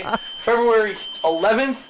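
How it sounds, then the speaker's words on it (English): A malfunctioning fire alarm in a condo building drones as a steady, thin, high-pitched tone running continuously beneath someone talking close up. "That is the fire alarm in my condo facility."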